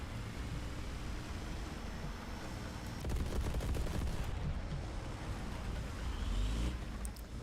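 Smoke grenade launchers on a tank in War Thunder fire in a rapid cluster of three, a short rattling burst of launches over a constant engine rumble and combat noise, with a second swell of noise near the end.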